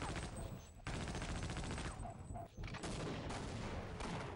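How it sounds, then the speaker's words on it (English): Machine gun fire in a speedrun video game rattles in dense, rapid bursts that are loud and close, broken only by brief pauses. "the machine gun is extremely powerful, like that section is just so much faster because of it"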